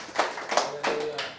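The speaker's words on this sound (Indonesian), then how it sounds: "Berikan sorak-sorai buat Tuhan" Church congregation clapping and cheering for God during a sermon, a few quick bursts of hand claps and voices over 1.4 seconds, moderately loud and close.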